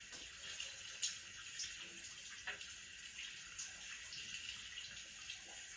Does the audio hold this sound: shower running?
yes